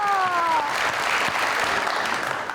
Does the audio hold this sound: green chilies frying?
no